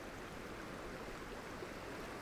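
A small creek in a wintry mountain village flows with a soft, steady rushing hiss, faint and unbroken throughout.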